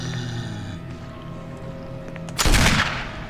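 A Magnum revolver shot in the Resident Evil REmake video game: one loud, sharp gunshot with a booming tail, rising out of quiet ambient game music.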